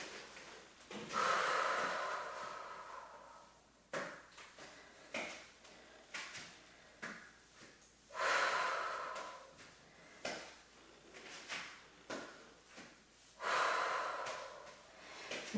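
Three long, forceful exhales during a dumbbell curtsy lunge workout, spaced several seconds apart and close to the microphone, with quieter breaths and faint clinks between them.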